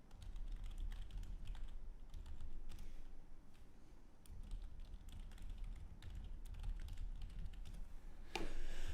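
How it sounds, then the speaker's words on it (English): Typing on a computer keyboard during a live home brew day, with soft, steady key clicks continuing close up over low background hum. "You can probably hear me type nice and easy there"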